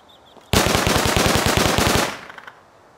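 A custom SMG in the video game Rust fires one rapid, close, loud burst of about sixteen rounds that lasts around a second and a half, then tails off into a brief echo.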